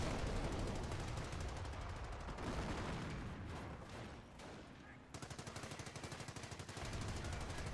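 Machine gun emplacement firing in Company of Heroes, a rapid sustained burst of automatic fire layered over dense battle noise, with the steady rattle continuing in a clear rhythmic stretch near the end.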